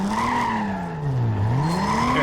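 A modded car engine in Need for Speed: Most Wanted revs down and climbs back up in a loud, close sweep, with faint tire squeal mixed in.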